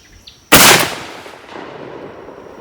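A 10 gauge shotgun fires a single 3 ounce TSS turkey load outdoors, one sharp, very loud blast followed by a fading rumble, with a faint beep just before.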